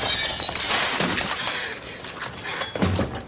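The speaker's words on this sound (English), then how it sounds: "So she actually broke a real window" A real glass window shatters during a television stunt, a loud, bright crash of breaking panes followed by scattered falling shards and tinkling debris.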